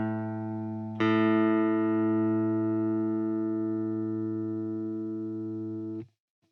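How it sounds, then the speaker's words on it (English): Two steel guitar strings sound by ear tuning at the 5th fret: one plucked note rings, then a second joins it, and both sustain together steadily before being cut off, close and clean with no talking. "you fret the lower E string in the 5th fret and compare the tone to the open A string"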